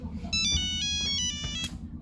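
A phone ringtone chirps through an incoming call, its bright melodic tones repeating over a low steady background hum, loud and close.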